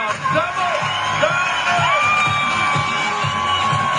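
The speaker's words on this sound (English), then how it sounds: "I need some music with some clapping and some noise and some screaming for this one" A lively crowd cheers, whoops and shouts continuously with high children's screams rising above the din, a steady loud wall of noise at a family event with no distinct claps standing out.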